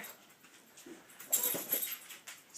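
Hunter, a pet dog, whimpers and whines softly nearby in short, uneven high-pitched bursts over a quiet indoor background.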